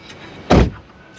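A car's electric power window runs once in a short motor whir lasting about a quarter second, loud and close, with quiet cabin ambience around it.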